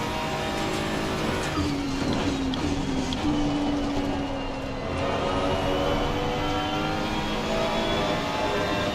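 BMW and Mercedes GT race cars in Assetto Corsa Competizione at Silverstone, a steady, continuous engine drone with a rising and falling whine, several cars running together at a constant loud level.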